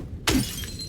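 A sharp, loud crash of breaking glass in the Silent Hill 2 video game, one burst followed by a brief scattering tinkle that quickly decays.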